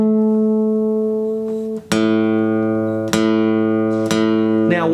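A guitar's A string is plucked while tuning with a tuner: a steady ringing tone, then four fresh plucks in a row, each a bright attack that slowly decays, heard up close with no voices.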